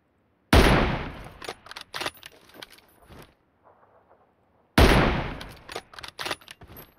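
Bursts of rapid automatic gunfire from a weapon in the video game PUBG, two loud volleys separated by a quieter gap with faint scattered sounds, no talk over it.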